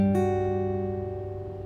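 Guitar strings plucked on the third and high E strings, a single bright attack ringing out with sustained, slowly fading harmonics, close and alone.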